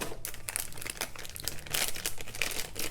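Plastic packaging crinkles and rustles as an iFlight Nazgul Evoque FPV drone is unboxed: dense, busy crackling that stays near and continuous with no pauses and no voices.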